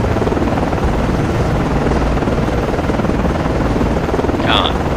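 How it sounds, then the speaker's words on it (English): Ship's helicopter taking off from destroyer DDG 79 in the game Cold Waters, producing an even, loud rotor-and-engine roar with chopping low pulses, and a brief higher radio-like voice blip near the end. "launching aircraft."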